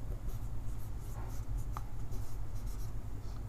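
A hand writing with steady scratching strokes, close and continuous for a few seconds, likely chalk or marker on a board in a physics lesson, over a low room hum with no talk.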